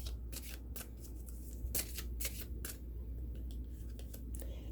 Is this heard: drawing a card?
yes